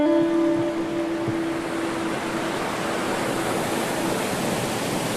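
Steady, dense rush of a river flowing over rocks near Colombian farms, a continuous broadband roar with no pauses, fairly loud and close, with a brief tonal hum early on.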